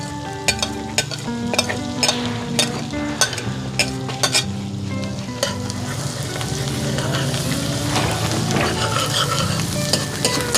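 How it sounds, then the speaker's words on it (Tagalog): Garlic sizzles steadily in butter in a pan, with continuous frying crackle, stirring scrapes and occasional utensil clinks against the pan, and a musical background underneath. "Ginigisa sa butter ang masarap na bawang."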